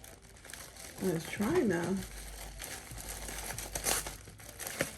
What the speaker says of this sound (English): let me just cut open this plastic here